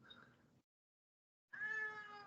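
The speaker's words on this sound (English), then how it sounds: "Cat." A cat meows twice, the first call short and moderately loud, then a pause of silence before a longer, stronger drawn-out meow close by.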